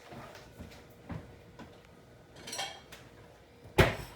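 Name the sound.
getting out a bowl among dishes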